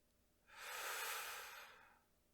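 A slow, deep inhalation drawn in through the airway during a soft-spoken hypnosis roleplay, rising and swelling for about a second and a half before tapering off, close and alone.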